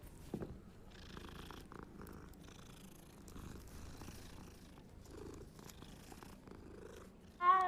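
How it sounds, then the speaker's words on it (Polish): A Bengal cat purrs in the video game Hogwarts Legacy, a steady low rumble running close and continuous with no talk over it, followed by a brief louder sound at the very end. "O, jest kolejny kotek. Bengalski."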